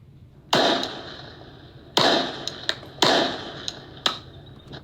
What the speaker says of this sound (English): Now you can notice that notable pop.